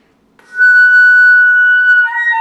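A single sustained flute F sharp, played with the B flat key, sounds alone, thin and steady after a soft breathy start.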